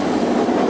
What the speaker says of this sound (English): sorry for the train that's going by right now